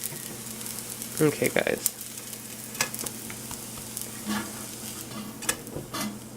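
A vegan, gluten-free patty fries in oil in a pan with a steady close sizzle, broken by a few sharp clinks and scrapes of utensils, while a voice speaks briefly.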